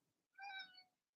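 A cat meows once, clear and close, a drawn-out call rising and then fading, with quiet room sound before it.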